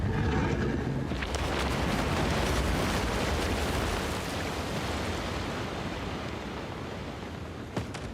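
A runic cannonball fired at a Kraken in Escape Simulator 2, heard as a loud sustained roaring blast that slowly fades into a long rushing wash of noise, with a small sharp knock near the end.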